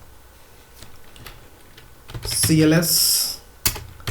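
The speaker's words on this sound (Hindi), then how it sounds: "मैं प्रोग्राम को टाइप कर लेता हूँ" Rapid keystrokes on a computer keyboard while a QB64 program is typed, a cluster of quick clicks building to a dense burst then one last sharp tap, with brief talk over it.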